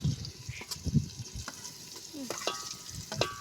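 Tomatoes go into a cooking pot and fry, with a soft steady sizzle broken by scraping, clinking stirring strokes, close and moderately quiet.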